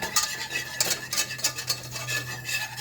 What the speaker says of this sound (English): start whisking on it